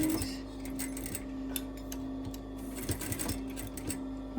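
A sewing machine stitching fabric, a steady fast mechanical whirr with a humming motor tone and small irregular clicks, fairly quiet and alone.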